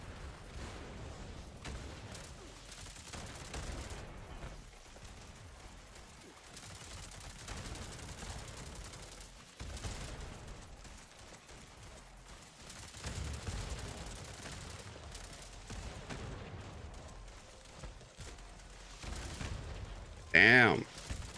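In Fallout 76, missiles fire again and again and explode in a dense, continuous barrage of rumbling blasts and gunfire. A sharp, loud burst comes near the end, and speech runs underneath.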